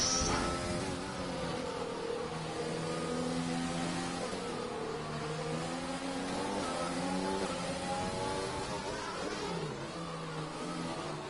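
Race cars in a sim racing game at the Monaco GP3 round whine and rev continuously, engine pitch rising and falling through gear changes, a steady loud drone with no voices.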